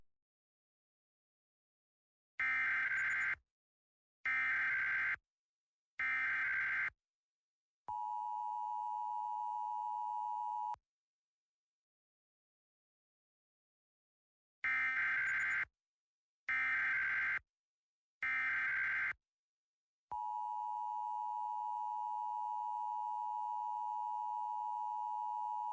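Emergency Alert System warning tones for hazardous weather in North Carolina sound as two sets of three loud, harsh bursts, each set followed by a long steady tone, with silence between the sets.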